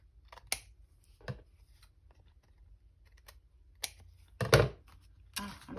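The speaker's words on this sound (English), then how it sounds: "I just thought it would be fun to cut that out and make it like a window" Scissors cut a square window out of a journal card in a quiet room: faint, close snips in scattered short bursts, a louder crisp cluster of cuts near the end.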